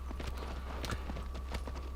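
Horse hooves clip-clop in a steady, rhythmic trot from the video game Shadow of the Colossus, moderately loud and close over a low background hum, with no talking.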